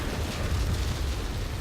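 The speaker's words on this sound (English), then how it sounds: "after that explosion happened, which kind of hurt the frame rate for a minute there" Explosion in the video game Crysis 3 on max settings: a sustained low rumbling roar, dense and loud throughout, with no talk over it.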